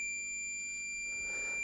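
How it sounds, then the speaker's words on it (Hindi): A multimeter set to continuity gives a steady electronic beep as its probes touch connected breadboard terminals, a continuous tone held for the whole stretch without talk. "तो अगर मैं इसके साथ टर्मिनल्स को कनेक्ट करूँगा तो आपको बीप की आवाज़ सुनाई देगी।"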